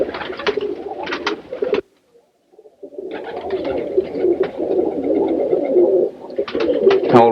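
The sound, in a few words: roller pigeon cooing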